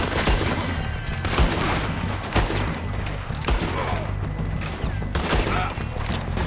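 Gunfire in the video game Red Dead Redemption 2: repeated sharp shots crack out in irregular bursts over a rumbling low background, loud and close, with several overlapping volleys across the scene.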